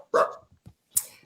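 A pet dog gives two short, sharp barks separated by a brief pause, sounding near and fairly loud against an otherwise quiet background.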